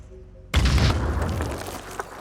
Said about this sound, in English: Mist is going to fire one grenade